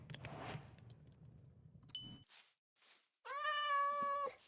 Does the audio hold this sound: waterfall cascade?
no